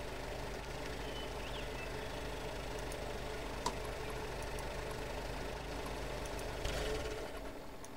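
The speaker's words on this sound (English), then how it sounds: "Somebody's engine's running." A vehicle engine idles steadily in SpinTires, a continuous low rumbling drone with a faint knocking texture that fills the whole stretch at a constant level, with no voices.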